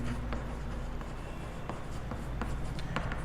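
Chalk or pen scratching and tapping on a board during a class 12 matrix maths lesson, a run of short quick strokes with small pauses, close and clear with no talk.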